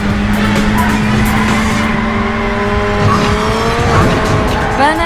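Race cars in the PlayStation 2 game Burnout roar at high revs with squealing tires while drifting, a loud, continuous engine drone with rising and falling skid whines, and a voice talking over it.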